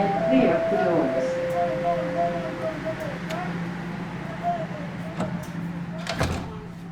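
Subway train doors on Toronto's Line 1 close with a short mechanical slide and thud. A departure chime and an announcement voice come first, over a steady low hum of the car.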